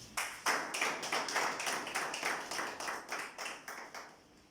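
A small group gives a standing ovation for a political party leader at a Côte d'Ivoire party gathering, clapping in a fairly regular rhythm that fades toward the end.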